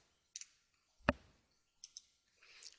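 A single crisp computer mouse click stands out near and clear, surrounded by faint small clicks and desk noises in a quiet room.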